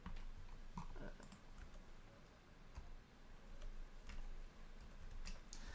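Light key clicks from a self-built split keyboard, sparse and irregular, faint against a steady background hum, with no voices.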